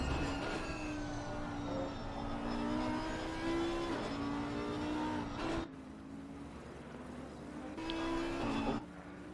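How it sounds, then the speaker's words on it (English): Audi race car engine in the Assetto Corsa Competizione racing game at the Nürburgring, a steady high-pitched howling drone that rises and falls with shifts, a brief dip near the middle, fairly quiet and without talk. "That Audi sounding, I think it sounds so ferocious."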